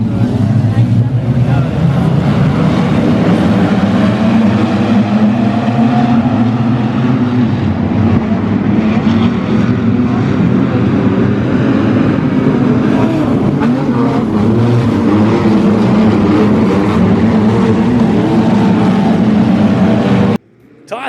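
Wingless sprint cars race around the dirt oval at Murray Bridge Speedway, a loud continuous engine roar with shifting pitch as the pack circles, lasting about twenty seconds before cutting off abruptly.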